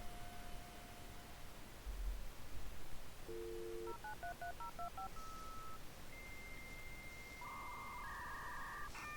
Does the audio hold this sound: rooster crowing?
no